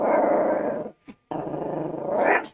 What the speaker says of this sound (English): Is there a dog out there?